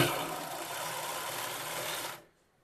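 A pico machine runs stitching fabric in a fast, even mechanical whir, close and fairly quiet, then stops abruptly into silence, with no talk.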